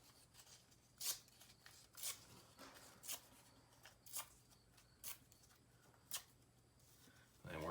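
Paper being torn into pieces for a craft, a series of roughly regular short ripping bursts about once per second, quiet and close with a faint hum beneath.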